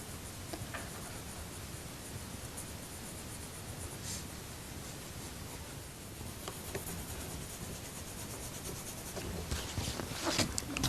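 Coloured pencil shades on paper in soft, steady scratchy strokes, faint and close, with a few louder scrapes toward the end.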